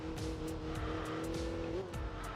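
An upgraded old-school twin-carburetor inline-four engine revs high in a racing game, a steady droning note holding, then rising sharply near the end, with tire squeal and faint ticking over the top.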